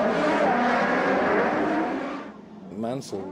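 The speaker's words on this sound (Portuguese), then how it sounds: "Os carros têm dificuldade na largada." Formula 1 cars roar off the grid at a race start, a dense, loud engine wash sustained for about two seconds before fading, with a commentator talking over it.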